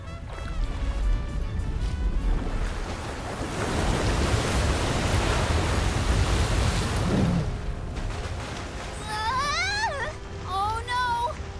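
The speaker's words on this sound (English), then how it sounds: "Is he trying to bust through the wall of waves with brute force?" A crashing wall of waves in Visions of Mana roars as a dense, continuous surge of rushing water, loud and close, before easing into quieter splashes while voices chatter over the top.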